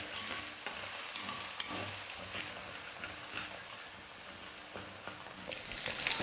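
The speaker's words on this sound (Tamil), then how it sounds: "தீயை வந்து இப்போ மீடியம் ஃப்ளேமில் வச்சுக்கிட்டே நம்ம முட்டையை நல்லா குக் பண்ணிக்கலாம்." Eggs fry in a pan over a medium flame for street-style egg fried rice, a soft, steady sizzle with intermittent scraping and stirring strokes from a utensil, fairly quiet and close, no voices.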